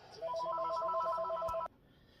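A telephone rings close by with a short, rapid electronic warble that trills evenly for about a second and a half, then cuts off sharply, leaving faint background hum.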